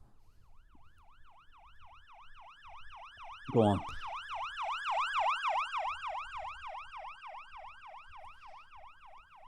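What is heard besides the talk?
ambulance siren sound effect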